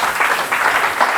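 A church congregation applauds, clapping in a dense, continuous patter that stays loud and even for about a second with no pauses.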